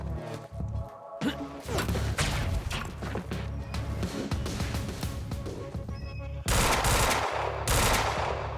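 Burst pistol gunfire in the PC game Quantum Break, rapid loud clustered shots and impacts over continuous combat noise, close, with a brief drop near the start and heavier fire toward the end.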